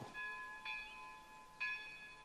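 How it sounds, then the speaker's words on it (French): A convent church bell rings with clear, sustained metallic tones, two or three strikes ringing out at a moderate distance over a faint background hum. "Qu'elles aillent prier puisque leur cloche sonne"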